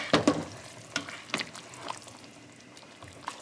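Chopped onion and tomato stirred into potatoes frying in a pan, giving a low sizzle with a few sharp scraping stirs and clatters at irregular intervals, fairly faint and without talk.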